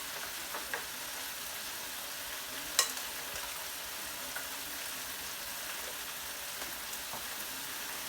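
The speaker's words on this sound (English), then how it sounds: "This is a nice well-used family deep fryer" Breaded shrimp deep-frying in a well-used family deep fryer give off a continuous, even sizzle and crackle, with one brief sharp pop partway through and no talking.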